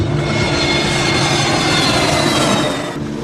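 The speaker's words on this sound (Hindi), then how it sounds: "मुंबई के हवाई अड्डे से विमान रनवे पर दौड़ता हुआ उड़ान भरता है" A plane at Mumbai airport races along the runway and lifts off, its engines producing a loud continuous roar that stays steady throughout and dips a little near the close.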